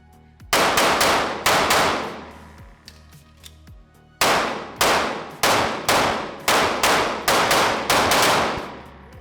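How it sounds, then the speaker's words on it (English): Repeated pistol shots from an Anderson Kiger Glock-clone handgun on an outdoor range, loud and sharp with ringing tails, coming in uneven clusters where some reports land almost on top of each other like a double fire. "that definitely looked like a little bit of a double fire, and it sure sounded like one right there"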